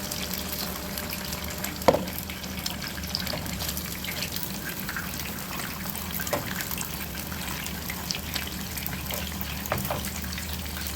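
Beef kafta meatballs fry in a pan with a steady, dense sizzle and scattered pops and crackles, continuous and close with no voices.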